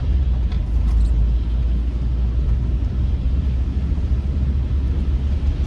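A car driving up Gerard Avenue through Philadelphia's Parkside neighbourhood, steady low engine and road rumble with some wind noise throughout, no talking.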